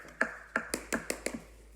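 Bath bomb mold halves being knocked along the seam where the two pieces meet, giving about seven sharp, close taps in an uneven rhythm with short pauses between them, with no talking.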